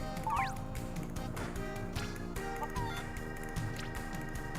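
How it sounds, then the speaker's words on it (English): A bird-like monster in the video game Fantasy Life squawks and clucks like an oversized rooster, with a few sharp cries over steady game music and ambient noise. "The cuckoo on steroids."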